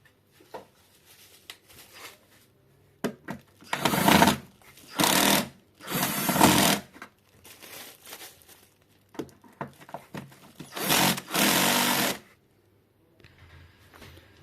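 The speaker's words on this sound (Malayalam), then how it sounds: "സ്ക്രൂ എല്ലാം റിമൂവ് ചെയ്തിട്ടുണ്ട്." Screws being removed from an 8 inch subwoofer speaker under repair give repeated bursts of a whirring power screwdriver, each lasting about a second, separated by quieter clicks and handling noises.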